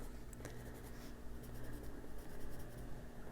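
A pencil scratches and strokes steadily across paper while coloring in an adult coloring book, close and quiet, with soft repeated rubbing and light taps.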